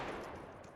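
Automatic weapons fire through walls in Counter-Strike 2, a short, dense burst of loud, broadband shots that fades slightly toward the end.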